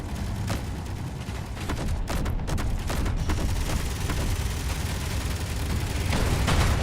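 Weapons firing in the space combat game Space Engineers during an ARES AT WAR battle, a loud continuous rumbling barrage with rapid repeated shots and blasts, sustained and dense across the whole stretch with no talk.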